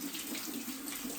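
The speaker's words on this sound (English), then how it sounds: "Always rinse your mushrooms really, really well" Tap water running steadily into a sink while mushrooms are rinsed, a close continuous splashing rush with no talking.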